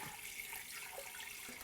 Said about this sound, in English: all I'm gonna do is add some water to this